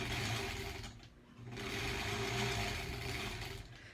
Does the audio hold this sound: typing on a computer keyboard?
no